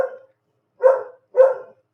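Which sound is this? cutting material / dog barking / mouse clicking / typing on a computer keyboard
dog barking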